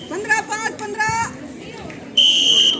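A referee's whistle sounds at a girls' kabaddi semifinal: one sharp, sustained shrill blast near the end, after a stretch of commentary and crowd murmur.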